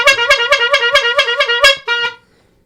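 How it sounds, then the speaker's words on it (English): A car horn honks in a rapid series of about ten short, loud, evenly spaced beeps, ending with one slightly longer blast, close and clear with no talk over it. "Are you honking a horn?"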